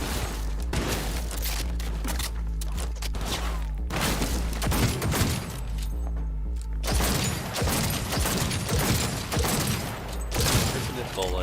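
Rapid gunfire in the video game Cyberpunk 2077 rattles in dense, loud bursts of sharp shots with booming thumps, broken by brief pauses, and a voice can be heard under it at times.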